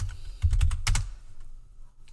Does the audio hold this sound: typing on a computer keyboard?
yes